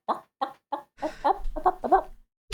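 A person imitates a chicken with a string of short clucking bursts, first spaced evenly and then running together into a longer, rising squawk, loud and close.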